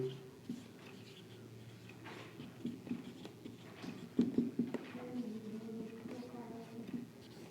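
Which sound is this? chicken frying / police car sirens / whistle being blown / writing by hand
writing by hand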